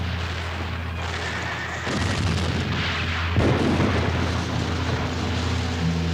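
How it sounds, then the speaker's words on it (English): Dramatised battle scene with covering gunfire: a dense, rumbling din of distant artillery-like blasts and explosions swells in two heavier bursts, while horses whinny and hooves clatter amid the chaos. "while my comrades gave me covering fire"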